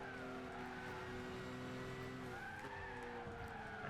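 A car in the Gran Turismo 6 racing game slides out at the rear on the Apricot Hill circuit, its tires squealing in long wavering tones over a steady engine drone.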